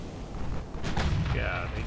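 Warship guns firing in the naval battle game Ultimate Admiral Dreadnoughts during a cruiser duel, a single booming shot rising out of low rumble, followed by a whistling tone, with a voice talking underneath.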